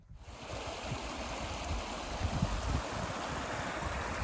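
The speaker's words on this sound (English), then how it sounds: "So all this water that's running by is called Rucker Burn" Water of the Rucker Burn, a hill stream near an abandoned mine, rushes past in a steady, close, broadband wash with slight surges, no voices over it.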